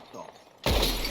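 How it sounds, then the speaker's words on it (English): A gunshot shatters a glass bottle during a shooting contest in Red Dead Redemption 2, a sudden loud burst of breaking glass after a quieter stretch. "Whoever shoots more of these bottles wins."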